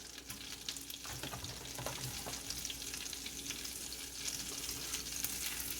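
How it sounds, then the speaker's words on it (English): A few tablespoons of butter with rosemary and sage sizzling in a pan on low heat, a soft, steady crackling hiss with scattered pops, quiet and continuous with no voices. "Here I have a few tablespoons of butter cooking on low heat. I'm going to add some rosemary and sage."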